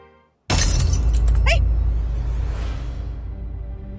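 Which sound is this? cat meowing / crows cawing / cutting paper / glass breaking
glass breaking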